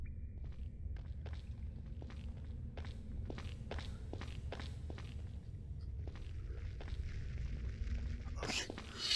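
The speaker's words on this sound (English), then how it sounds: "You could tell the footsteps get louder the faster I move." Footsteps of a character walking and roaming in the stealth game Vengeful Rites, a steady series of soft thuds that grow closer together over a low rumbling ambience, ending in a brief sharp burst.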